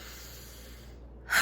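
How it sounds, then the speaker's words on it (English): A soft, airy exhale voiced as a breathy ha during a relaxation breathing exercise, heard once at the very end after a stretch of quiet room hiss. "on the exhale, make some noise, go ha, and do that a couple times"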